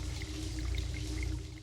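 Running water inside an abandoned apartment in the video game Nanashi no Game Me, a continuous pouring trickle with a low hum beneath it and faint bright droplet-like tones scattered on top.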